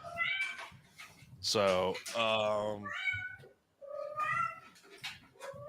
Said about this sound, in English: whose cat is going ape shit?